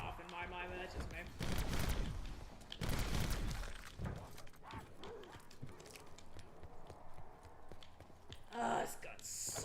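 Rapid bursts of automatic gunfire in Black Ops 4 Zombies crackle through the first few seconds, then sparser shots and game effects follow, with a player talking over parts of it.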